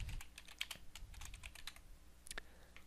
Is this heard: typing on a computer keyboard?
yes